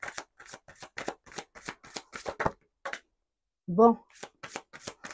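Tarot cards are shuffled in quick crisp bursts of riffling clicks, with a short pause in the middle, while someone speaks briefly over the handling.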